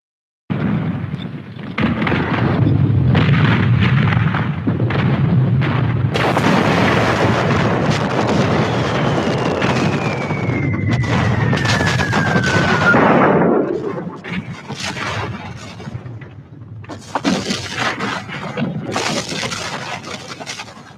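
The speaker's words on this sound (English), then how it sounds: "Every day since late May, U.S. Grant's 200 Union guns had pounded Vicksburg from land, while Admiral David Porter's gunboats battered it from the river." Union artillery, some 200 guns, bombarding Vicksburg alongside gunboats on the Mississippi: a loud, continuous rumbling barrage of booms with a long descending shell whistle partway through, then rough heavy blasts trailing off.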